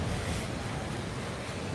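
Ocean waves at a Cancun resort beach wash in a steady, dense roar of surf, with wind buffeting the microphone throughout.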